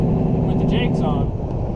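A heavy truck with a 13-speed transmission holds its speed downhill through road work with the Jake brake engaged, a loud, steady low engine rumble close by and continuous.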